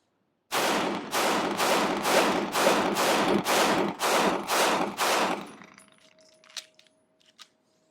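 A SIG Sauer concealed-carry pistol fires nine sharp shots in a steady, evenly spaced string, each loud and close, then falls quiet apart from a couple of faint clinks.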